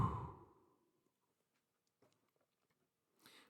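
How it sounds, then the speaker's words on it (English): One big, slow exhale during a guided relaxation breathing exercise, close and soft, a breathy rush that tapers off into near silence, followed by faint rustles and a quiet breath. "Big exhale."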